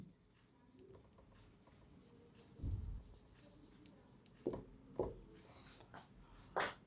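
Chalk or pen writing a person's name on a board, with intermittent scratchy strokes and a few sharper taps, fairly close and quiet, with no one speaking.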